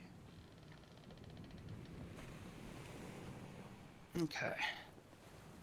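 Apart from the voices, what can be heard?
sea sounds ambience played from Sirenscape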